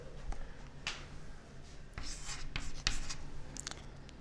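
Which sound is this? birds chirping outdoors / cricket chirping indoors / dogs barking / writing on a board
writing on a board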